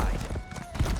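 Horse hooves clop in a quick, close rhythm as a rider moves off in Elder Scrolls Online, with a voice speaking over them.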